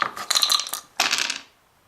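Dice clatter across a board game table in two quick rattling bursts, a bright rolling tumble followed by a second short roll that settles into silence.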